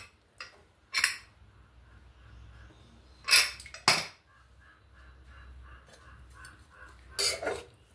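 Cooked sorakaya tomato curry is dished into a serving bowl, with a few sharp metal clinks of a ladle on the vessel, spaced apart, over a low background hum and no talk.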